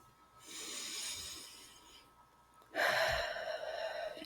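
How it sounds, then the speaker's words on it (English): A deep guided breath during a meditation: a long, airy inhale through the first couple of seconds, a short pause, then a louder, fuller exhale that trails off slowly. "breathe with me once more"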